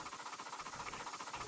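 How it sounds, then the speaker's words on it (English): A 4-6-4 Hiawatha steam train running in the RO-Scale Sandbox game, giving a steady rhythmic rolling clatter with repeating beats at moderate loudness and no voices over it. "And now the train is on the way already into the final stop."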